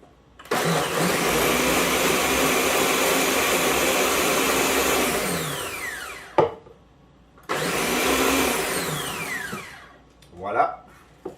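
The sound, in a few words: blender blending a drink with buckwheat honey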